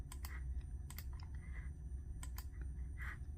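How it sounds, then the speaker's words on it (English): Computer mouse clicking through eBay listings, a series of light, sharp clicks spaced irregularly over a steady low background hum, close and fairly quiet. "I'm going to click on all 6 of these here"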